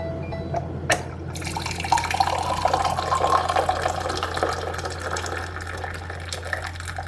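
A Morphy Richards hot water dispenser pours into a cup through two nozzles, a steady close hiss of running water over a constant low appliance hum, with a short knock near the start.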